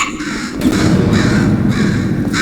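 Crow-like bird cawing in the Portal 2 video game: a few harsh, loud caws close by, repeating in an uneven rhythm over a steady background hum.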